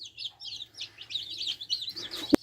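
Backyard chicks and hens chirp in a busy, overlapping stream of high peeping calls, steady and close, with a low hum beneath and a sharp knock near the end.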